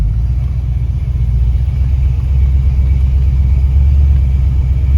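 A Buick Boattail Riviera's carburetted engine runs steadily on a test drive, a loud, continuous low rumble with a slight rise in revs toward the end, no talk over it.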